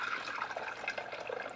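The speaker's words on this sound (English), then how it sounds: "I'm going to pour that into the fat separator I have" Beef drippings from a kamado-grilled ribeye roast pour into a fat separator, a short, continuous liquid gurgle and splash heard close up with no talk.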